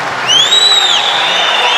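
A large crowd at an MMA event roars loudly and continuously, with a high whistle-like tone sweeping through the dense cheering.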